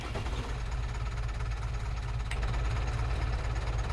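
A small tractor engine idles with a steady low chugging, close and even throughout, with no voices over it.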